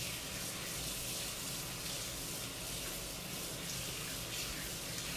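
Tap water runs steadily and evenly while hands are rinsed beneath it, a continuous hiss with no voices and no breaks.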